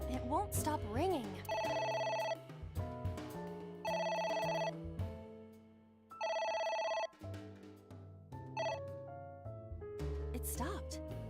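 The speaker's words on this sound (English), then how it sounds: "It won't stop ringing." A telephone rings in the video game A.I. The Somnium Files, three steady electronic ring bursts separated by short gaps, set over background game music and other tones.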